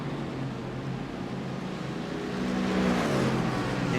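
BMW GT race cars running flat out down the Monza straight, a continuous distant engine roar that swells louder toward the end as the cars draw closer, with no voices over it.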